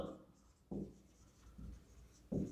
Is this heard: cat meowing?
no